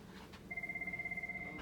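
A telephone rings with a steady electronic tone, starting partway in and sustained to the end, fairly quiet over a low room hum during a classroom-style lesson delivery.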